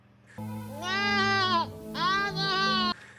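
A voice imitates a sheep bleat in two drawn-out, wavering bleats separated by a short gap, close and clear with no other sounds.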